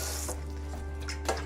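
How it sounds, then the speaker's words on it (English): Tap water runs steadily into a kitchen sink while a water distiller is rinsed, a constant close hiss with faint splashes and clinks, no talking. "I'll just put it in the sink and I will rinse it out with some water."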